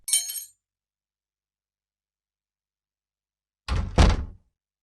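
A door being shut and locked, a short high metallic rattle, then after a pause a heavier clunk of the door followed by a latch click, close and loud.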